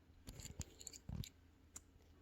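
Scissors snipping the tops off liquid pectin pouches in a home kitchen, a few faint close crisp cuts and clicks in quick succession with one heavier crunching snip, no talking.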